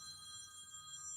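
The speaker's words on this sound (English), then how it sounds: "that is my phone going just now" Phone ringing indoors with a steady electronic tone, one short continuous burst that is fairly faint and heard alone.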